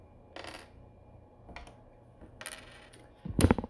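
Small game coins from the Valeria Card Kingdoms board game clink down onto a table in several separate little bursts, the last handful landing loudest, close up with no talk.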